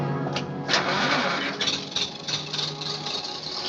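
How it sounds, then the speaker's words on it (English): A generator engine cranks and catches, sputtering irregularly before settling into a steady mid-pitched running rumble, loud and close. "Start the generator."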